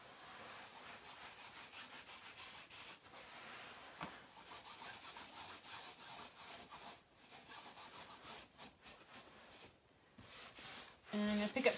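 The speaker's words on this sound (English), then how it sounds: "pick up some of that ink on the cardboard and rub it into my corners here" Cardboard loaded with ink is rubbed in circular motions into paper corners, making a steady, faint scratchy rasp that continues throughout, with a voice talking over it.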